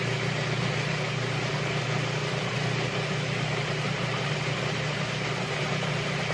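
Food processor spinning garlic with olive oil, a steady continuous motor whir with a low hum, even and unbroken throughout.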